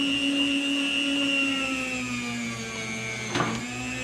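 An electric meat slicer hums steadily while cutting a smoked moose roast, a loud close motor whine with a brief scraping burst near the end.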